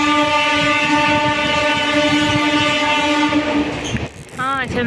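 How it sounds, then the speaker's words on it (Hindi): A train on the Sasan to Bagdehi journey rolls along with steady rumbling and rhythmic wheel clatter under a long, loud horn blast, the horn cutting off near the end as the rolling noise carries on. "स्लोली स्लोली ट्रेन टा जाऊ छे"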